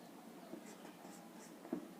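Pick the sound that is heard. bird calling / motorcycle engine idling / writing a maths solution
writing a maths solution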